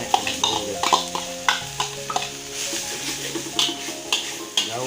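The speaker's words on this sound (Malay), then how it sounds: "kemudian kita campurkan juga serai yang ditumbuk tadi ya" Pounded lemongrass being stirred into chicken rendang in a pan, a series of close scraping and clinking spatula strokes against the metal in an irregular rhythm, over soft sizzling, with a sustained musical tone underneath.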